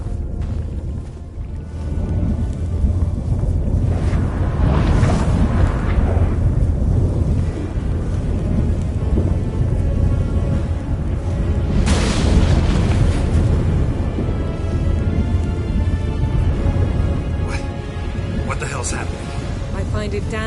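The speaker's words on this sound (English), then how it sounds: "That a storm?" A thunderstorm rolls in within The Witcher 3, heavy rumbling thunder swelling and cresting over a dense, continuous roar with loud surges around the middle, layered under game score and effects.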